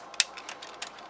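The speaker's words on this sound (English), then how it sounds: "Nice ratchet joint." Ratchet joint on an oversized knockoff Transformers Revenge of the Fallen Optimus Prime movie toy, giving a few small, quiet plastic clicks, the sharpest near the start and a softer one later, with nothing else around them.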